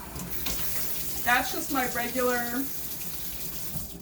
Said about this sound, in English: when you just turn on your faucet, it's just still the regular water running through.